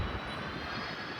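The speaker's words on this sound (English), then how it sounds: "So anyway, this awesome airplane is coming in right now." A large LATAM passenger airliner comes in to land at a runway with a loud, steady roar of jet engines. The rumble stays broad and continuous, close and unbroken, with no speech over it.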